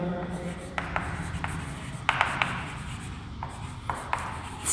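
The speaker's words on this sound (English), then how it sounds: "I am writing here vacant d orbital" Marker or chalk scratches across a board during a chemistry lecture, producing short, intermittent strokes with a faint background hum. Brief bursts of speech occasionally overlap the strokes.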